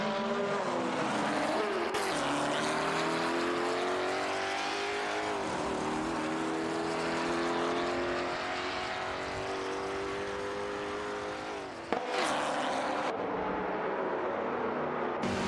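Racing cars in a racing video game, a Ford GT40 and a Ford GT, with a loud continuous engine roar rising and falling through gear changes and a brief sharp break near the end.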